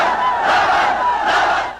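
Cheers and shouts roll from a vast outdoor crowd of several hundred thousand at a Cory Aquino rally in Manila, a dense sustained roar that swells twice.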